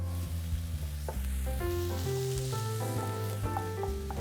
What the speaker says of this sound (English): fry up the last of the oil with the garlic and the spinach